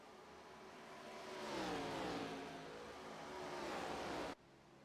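A race car engine in a stock-car racing video game, on an oval at Kentucky, builds and swells as it accelerates past, with a rising whine that holds steady before cutting off abruptly near the end.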